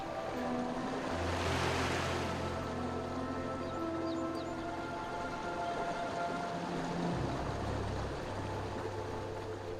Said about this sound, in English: Behind the waterfall.